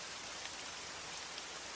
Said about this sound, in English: It's dead silent now, save for the icy rain hitting our tent.